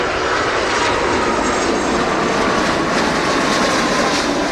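An Airbus jet landing at Montego Bay airport in Jamaica, its engines giving a loud, steady roar that stays dense and unbroken throughout, with no voices.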